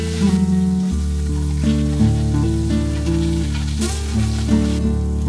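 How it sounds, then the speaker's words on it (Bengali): Boiled raw mango sautés in hot oil with dry red chilli and panch phoron, giving a steady sizzle that runs beneath tuneful background music. "ফোড়নটা ভাজা হয়ে এলে সেদ্ধ করা আম দিয়ে দেব আর ফোড়নের সাথে একটু সাঁতলে নেব।"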